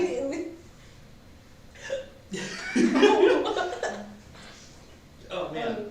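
Repeated hiccups from a person who has just eaten very spicy food, sharp short bursts mixed with chuckling and breathy laughter, close and loud, with talk between them.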